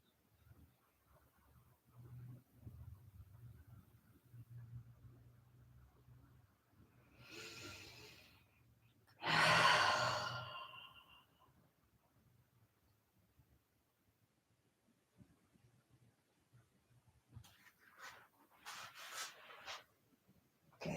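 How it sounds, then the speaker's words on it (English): Slow, deep breaths taken during a quiet yin yoga session: a few long, airy exhales spaced far apart, one notably louder and closer, with near silence between them. "Three more deep breaths on this side."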